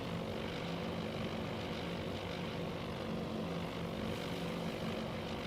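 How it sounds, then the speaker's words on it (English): Propeller aircraft swoop in on a naval fleet in the game Task Force Admiral, a continuous droning engine roar that stays steady and fairly distant throughout, with no voices. "It definitely looks like there's aircraft swooping in on the formation."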